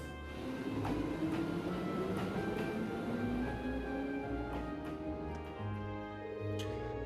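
A train pulls away in the video game Trails of Cold Steel: a steady low rumble with a rising mechanical whine and scattered metallic clicks, continuous and fairly close, with no voices.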